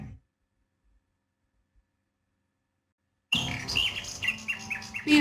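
A bird chirps and tweets in quick, bright repeated calls in the King's Quest VI game, arriving suddenly after near silence and continuing close and clear to the end.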